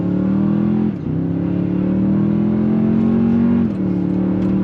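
A 2022 Toyota Tundra Limited pickup, in two-wheel drive, accelerates hard on throttle, its engine droning loudly and steadily with two brief dips in pitch as it shifts gears, heard up close from inside with no one speaking.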